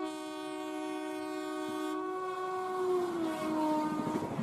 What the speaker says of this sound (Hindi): ये ट्रेन है पीछे, ये तो कोई हम सफ़र एक्सप्रेस लग रही है या हिमसागर।